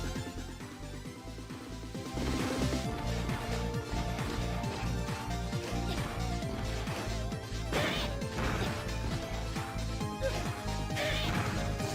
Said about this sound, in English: smashing the tree just makes shit fall down